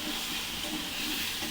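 Turmeric-coated potatoes hit hot oil in a Bengali fish-and-potato curry, giving a steady, even hiss and sizzle that holds without break, close and moderately loud with no talk over it.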